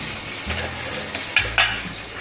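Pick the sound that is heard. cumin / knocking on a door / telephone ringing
cumin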